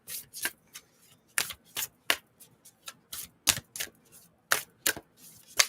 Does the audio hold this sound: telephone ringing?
no